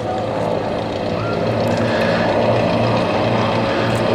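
An RV8 light propeller aircraft on a display pass makes a loud, steady engine drone with a broad, constant roar that holds for the whole stretch.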